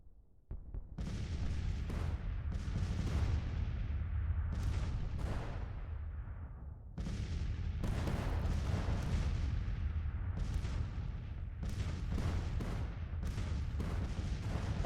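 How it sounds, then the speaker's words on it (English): Cannon batteries trade counter-battery fire in a Civil War strategy game, a dense continuous barrage of booming artillery shots and rolling blasts, many overlapping, loud and sustained throughout with no talking. "Our counter battery fire is being effective right now."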